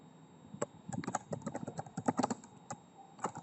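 Fingers tap a computer keyboard while entering data into an Excel spreadsheet, producing a quick, irregular patter of close, crisp keystrokes with short pauses, no voice.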